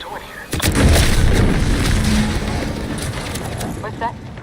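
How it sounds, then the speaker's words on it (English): Explosion in The Outer Worlds 2 on PC, a sudden loud boom followed by a long rumbling roar that slowly fades, with a voice briefly heard near the end. "What's that? An explosion?"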